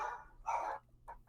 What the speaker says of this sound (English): That's my dogs. They're barking at probably a mailman.